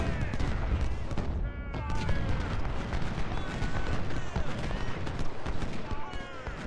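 Massed musket and cannon fire in the Civil War strategy game Ultimate General: Civil War at Bayou Fourche, a dense, continuous roar of overlapping volleys and battle din throughout, with voices faintly mixed in.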